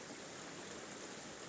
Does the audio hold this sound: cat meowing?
no